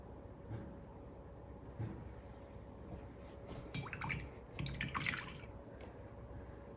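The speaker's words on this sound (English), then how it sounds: "Rinsing my brush out in between" A paintbrush is rinsed in a water cup between black and gold acrylic paint, giving quiet swishing, dripping and light clinks. The sounds are faint and close over a steady low hum, with no voices.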